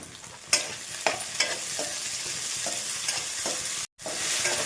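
Chopped tomatoes fry in a pan with ginger-garlic paste for sambar, a steady close hiss of sizzling broken by several sharp scraping stirs of a spoon against the pan and a brief cut to silence near the end.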